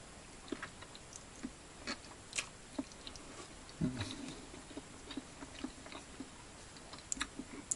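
Small crunchy chewing and biting sounds during breakfast outdoors in a forest, close and soft, scattered irregularly over quiet background ambience.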